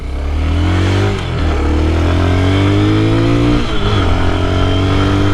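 Amazon X-Pro KPM 200 or Hawk 250 DLX motorcycle engine pulling steadily in fifth gear at about 52 mph, a loud continuous drone with rising harmonics, a brief dip as the throttle eases, then climbing again.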